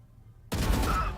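Swarm grenades go off in a tactical shooter esports match: after a quiet moment a sudden loud burst of rapid, crackling explosions rolls on for over half a second.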